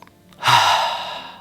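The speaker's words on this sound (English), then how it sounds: "take a few deep breaths with me" One deep breath, drawn in or let out slowly, sounds close and soft as it swells and then fades during a relaxation breathing exercise.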